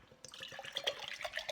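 Water poured into a glass or bottle after a couple of drops of essential oil. It makes a quiet, bubbly trickle that starts abruptly and keeps going with splashy gurgles, close and faint.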